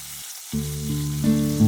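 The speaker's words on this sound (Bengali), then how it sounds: "ছ চামচ সর্ষের তেল দিয়ে মাছগুলোকে ভাজার জন্য কড়াইতে ছেড়ে দিল" Snakehead fish hits hot mustard oil in a wok and starts to sizzle, the frying rising quickly after a brief quiet moment and continuing steadily.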